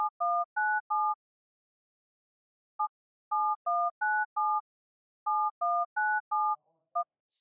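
Telephone keypad DTMF tones played in a browser game sound in quick groups of four or five clean two-note beeps, with pauses between the sequences, close and clear with no talk over them.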